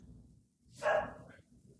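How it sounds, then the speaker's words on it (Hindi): A single dog bark, short and moderately loud at mid-distance, over a low steady background hum. "अरे कुत्ता भौंको मत, बहुत भौंक रहा है, भौं भौं भौं भौं कर रहा है"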